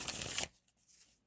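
Oracle cards being shuffled by hand during a tarot-style reading, a close, dense riffling burst lasting under half a second before cutting off to near silence.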